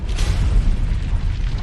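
A massive sound-effect explosion of the planet Venus, a deep sustained roaring boom that rumbles loudly and continuously, dense low rumble with hissing debris texture throughout.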